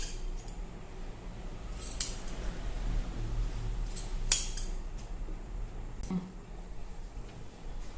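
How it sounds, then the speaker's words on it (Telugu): Scissors trim the extra cloth around a blouse back-neck design. A few sharp, close snips and soft fabric rustles sit against a quiet background. "ఇక చుట్టూ ఇదంతా కూడా ఎక్స్ట్రా క్లాత్ అంతా కూడా కట్ చేసేసుకోవాలి"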